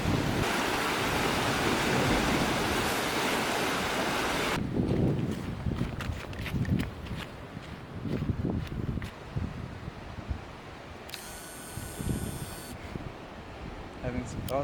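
Strong ocean waves and a fast sea current off a beach in Bali, loud wind-blown surf roaring steadily at first, then rougher gusting water with bursts of rushing, voices heard over it.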